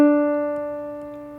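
A single D note in the bass clef on a keyboard, struck once and left to ring with a steady, slowly fading tone, clean and alone.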